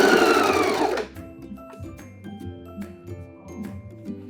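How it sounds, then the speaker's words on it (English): A sewing machine stitches piping cord into a seam with a steady mechanical whir. A louder burst opens the run, then the motor continues evenly and close by. "So let's sew that piping into the seam."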